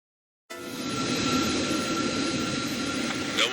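A fighter jet in Ace Combat 7 taxis with a steady, loud engine whine and roar that starts abruptly after a short silence and holds evenly throughout.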